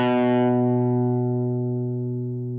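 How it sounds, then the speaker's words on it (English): A single electric guitar A note rings out loud and bright, then its harmonics fade as it sustains and slowly decays over a couple of seconds. "It's gonna be extremely obvious with an electric guitar sound. Let's first listen to an A."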